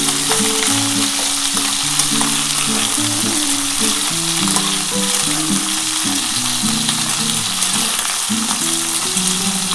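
Vegetables fry in a pan for a Bengali vegetarian broad bean, potato and lentil-dumpling curry, with a loud continuous sizzle and crackle over a low rhythmic clatter of stirring. No voices.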